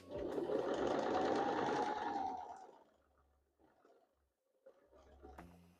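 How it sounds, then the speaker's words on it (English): A sewing machine runs fast through quilt seams with a dense, steady mechanical chatter for about two seconds, then slows and stops, followed by quiet handling sounds. "Sometimes my machine does have a little bit of an issue getting over such a large clump of seams"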